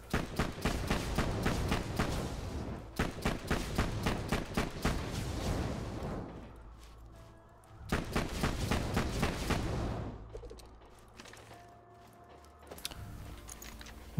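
Rapid bursts of gunfire from a Tinderbox fire weapon in Borderlands 2, loud and close, in two long strings of quick shots with a quieter gap between them and a few scattered shots after.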